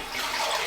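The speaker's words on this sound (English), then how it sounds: "Just gonna give it a flush." A toilet flushing in a home bathroom after its bowl has been scrubbed clean, a short steady rush of water that swells and then cuts off abruptly, close and alone.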